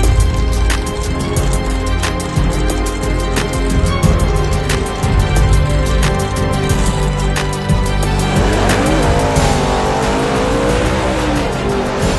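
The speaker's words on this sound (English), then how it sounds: "It's an 85 Monte Carlo with a Pro Charger on it." A gasoline-fuelled 1985 Monte Carlo drag car with a ProCharger roars loudly at the drag strip, engine revving hard with sharp bursts, then surging and sweeping upward as it launches and pulls away.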